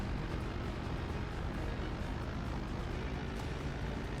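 Spaceships and aircraft in the video game Red Faction, a steady broadband engine roar droning at low level without pause.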